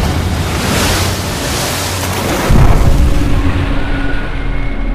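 Loud ocean waves and wind at sea in a film scene, a continuous roaring wash with a heavy thudding surge midway, the rush continuing after it.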